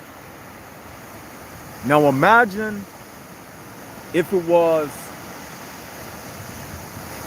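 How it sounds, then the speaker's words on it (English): Ocean surf rumbles steadily on a beach as a continuous broadband wash in the background, while someone speaks briefly over it twice. "is like the rumbling sound of the water"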